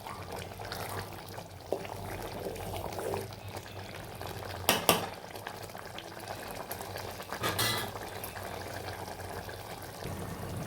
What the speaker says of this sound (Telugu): 2 నిమిషాలు ఇలా ఉడకనిచ్చాలండి